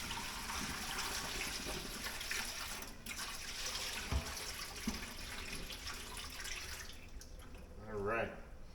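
Brine poured out of a container into a kitchen sink while curing pastrami, a steady broadband splashing rush that runs several seconds before trailing off into a brief gurgle near the end.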